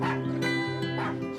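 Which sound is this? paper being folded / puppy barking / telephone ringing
puppy barking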